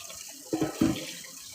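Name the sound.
tap water running over eggs in a sink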